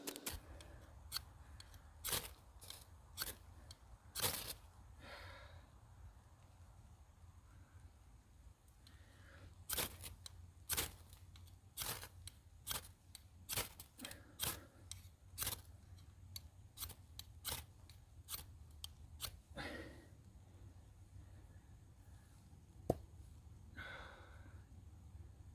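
A survival knife shaves and scrapes tinder for fire starting, giving a long series of sharp, crisp scraping strokes in irregular bursts, close and fairly quiet, with no talking.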